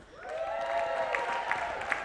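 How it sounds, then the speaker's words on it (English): An audience claps and cheers for the third-place team at an awards announcement, a steady wash of applause with a voice carrying over it. "please, give a loud cheer when we've finished these names"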